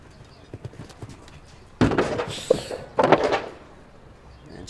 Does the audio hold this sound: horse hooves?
yes